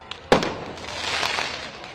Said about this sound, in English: Fireworks launched toward police.